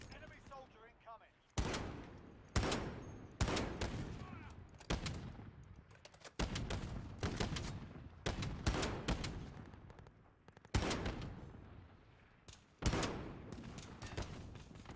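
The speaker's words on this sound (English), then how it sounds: "Gotta get better with this sniper weapon" Sniper rifle gunfire in the Call of Duty video game: loud, sharp shots spaced every second or so across the whole stretch, with busy battlefield noise and other gunfire between them.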